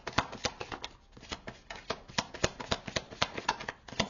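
Tarot cards being drawn and handled up close, with quick papery flicks and slaps in an irregular, busy rhythm, fairly quiet with no talking.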